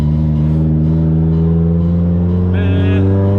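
A 500 hp Nissan S14 drift car with a full straight-pipe exhaust holds a loud, steady, deep engine drone close by, without any clear revs.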